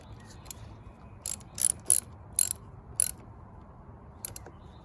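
Sharp metallic ratcheting bursts as a fitting is tightened by hand, five or six short clicks spaced irregularly over a quiet background, close and clear.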